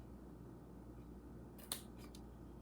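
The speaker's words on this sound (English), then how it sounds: "You just put a snip in the center, and then from the corner to the center, snip that." Scissors snip through paper to cut a flag shape, a few close, crisp cuts in quick succession after a quiet stretch of room hum.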